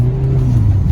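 A 2011 Hyundai Genesis Coupe 2.0T drifts through snow in a rough parking lot, its engine holding a loud steady droning tone close up, with no voices.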